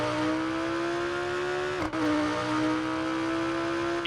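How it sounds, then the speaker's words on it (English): A Lamborghini Gallardo drag car in the BeamNG.drive game revs hard, its engine tone climbing steadily, dipping briefly at a quick gear change, then rising again. The sound is loud, close and continuous, with no talking. "Wow, it just blasts through the gears."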